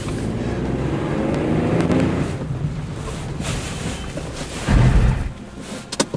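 A VW Transporter Highline van driving along with a steady low engine and road rumble under wind buffeting, with a heavier thump near the end.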